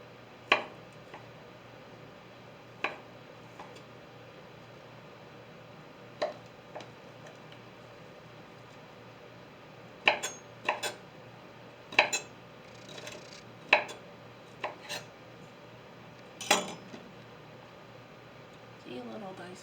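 Vegetables being diced with a knife on a board for soup, a series of sparse, sharp chops that cluster faster toward the middle, heard quietly in a room with a low background hum.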